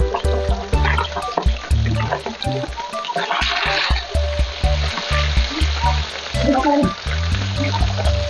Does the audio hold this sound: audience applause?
no